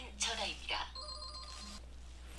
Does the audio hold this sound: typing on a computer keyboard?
no